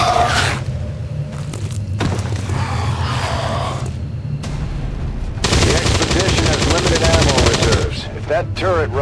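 A turret fires in XCOM 2, a rapid stream of loud mechanical gunshots that swells into a long dense burst, with thuds and other game effects around it.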